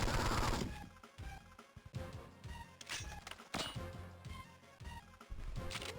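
Gunfire in the Game Boy Advance 007: Nightfire from 2003, rapid repeated shots and impacts layered over busy game music and effects, continuous and fairly loud throughout.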